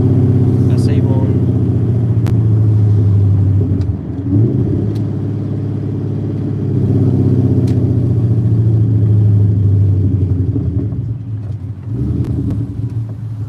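Ford Mustang Cobra with a swapped Coyote V8 cruising, a loud deep droning engine rumble heard from inside with shifts in pitch as it eases off and picks back up.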